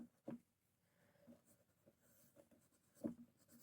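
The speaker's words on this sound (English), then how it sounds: "I'm drawing this" A pen scratches and strokes across paper while drawing, very quiet and close, with soft continuous rubbing and a few sharper taps.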